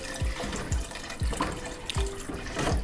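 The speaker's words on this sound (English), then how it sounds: "Agora eu vou pôr água, 4 copos d'água que eu vou pôr aqui." Water pours and splashes steadily into a pot for cooking rice for Portuguese seafood rice, close and continuous, with light rhythmic glugs and drips throughout.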